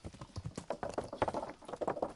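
Horse hooves clip-clopping in the video game Kingdom Come Deliverance, a steady rhythm of soft, close hoofbeats over a low background, no talking.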